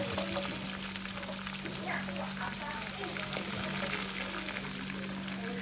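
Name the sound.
onions frying with garlic and ginger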